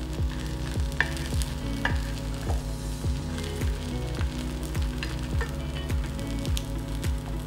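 Food fries in a pan over a low flame and is stirred and flipped, giving a continuous close sizzle with regular scraping strokes and clicks of the utensil.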